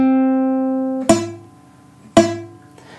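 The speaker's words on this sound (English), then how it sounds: "the finger just leaning back ever so slightly and just touching the open E string, string one" An acoustic guitar's open high E string is accidentally muted by a fretting finger leaning back onto it: a sustained tone fades, then two sharp plucked notes follow about a second apart, each dying away quickly, with no talking.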